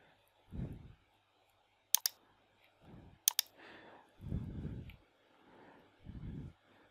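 Sharp clicks from computer keyboard keys, two quick double taps spaced apart, sounding close and quiet between low murmuring voice.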